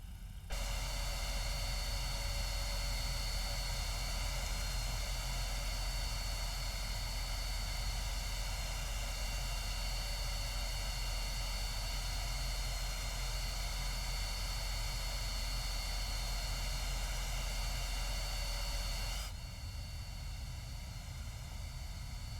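A FedEx airliner's engines roar steadily at takeoff from Oakland International in the X-Plane 11 flight simulator, a loud, dense, unbroken drone with a low rumble that eases slightly near the end.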